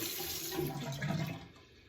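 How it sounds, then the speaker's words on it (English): Cold tap water running steadily into a sink during a straight razor shave, a soft continuous splashing stream that eases off toward the end. "I'm applying some cold water"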